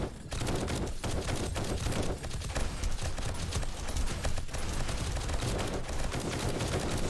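Dense, continuous gunfire against a zombie horde in the Alpha 19 build of 7 Days to Die. Rapid overlapping shots and impacts pile into a loud, steady barrage with no pauses, game noise only and no talking.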